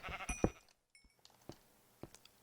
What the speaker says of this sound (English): Oh, it's that sheep. Darn sheep.